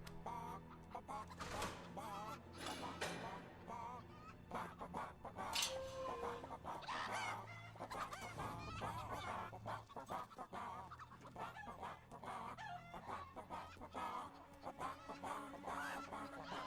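Chickens clucking and squawking in a village in Fable 3, a busy, continuous flock chatter layered with other ambient noises, while someone talks over it.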